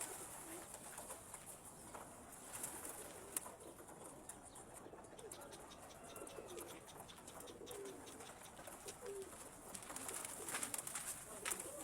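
Pigeons coo softly and repeatedly at a rooftop, quiet and somewhat distant over a steady outdoor hiss, with no talk.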